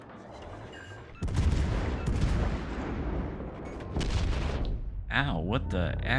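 HE shells from the battleship Nelson slamming into a ship in World of Warships: Legends, two heavy crashing impacts over continuous rumble, followed by warbling effects, with some talk in the background.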